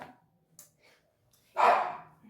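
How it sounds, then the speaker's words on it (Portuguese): An angry dog lets out one loud, harsh bark close by, preceded by faint whimpers and breathing in an otherwise quiet room. "Eita, o cachorro tá bravo"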